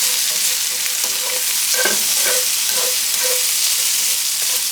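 Chopped cooked bacon and lemon juice sizzling loudly and steadily in a hot pan, with a dense, continuous hiss and occasional soft stirring scrapes and clinks over it.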